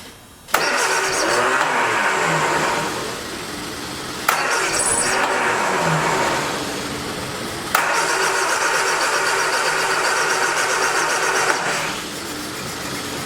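A cheap 1979 Triumph Spitfire with a suspect fuel pump cranks loudly and at length, with sharp jolts every few seconds as the engine catches and churns close by.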